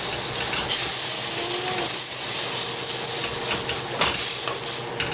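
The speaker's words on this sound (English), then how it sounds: "I'm going to hit it with that shrimp stock" Shrimp stock hitting a hot pan to deglaze it, a loud continuous sizzle and steamy hiss with faint scraping, close and steady throughout without voices.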